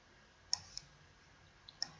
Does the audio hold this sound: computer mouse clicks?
yes